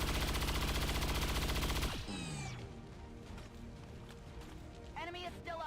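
A gunshot in XCOM 2: a loud, rapid, rattling burst of fire lasts about two seconds, then cuts off into quieter game sounds and voices talking.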